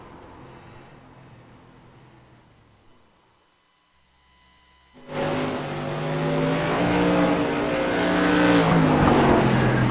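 Race car engine roaring around the 3/8-mile Oxford Plains Speedway oval, faint and distant at first, dropping away, then surging loud and close with rising revs and a sustained high-pitched drone.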